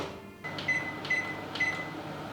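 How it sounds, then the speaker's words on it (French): A microwave oven running at 700 watts with a low steady hum, punctuated by three evenly spaced soft tonal pulses, fairly quiet and with no voices. "Maintenant, on enfourne le tout au micro-ondes et c'est parti pour 3 minutes 30 à 700"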